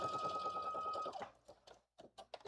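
A sewing machine back stitches along a blazer sleeve, whirring steadily and close for about a second, then tapering into a few soft clicks and short bursts.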